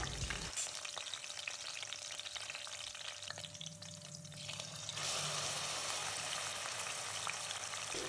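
Sliced green chillies frying in oil in a pressure cooker for mutton curry, a dense steady sizzle lasting throughout, loud and close, briefly softening midway then surging back with stirring, no voices.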